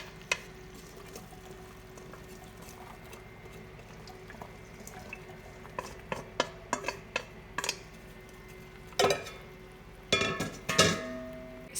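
Chopped onion and carrots tipped into a cooking pot for braised chicken thighs, giving a scattered run of soft clatters, taps and knocks that grow denser and louder toward the end, fairly close with no talking.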